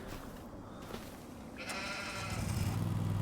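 Sheep in Farming Simulator 25 bleat in a quiet pasture, one short bleat early, then a louder, longer cry rising toward the end over low background rumble.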